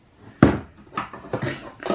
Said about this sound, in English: This one particular drawer that I keep these in, everything just slides out.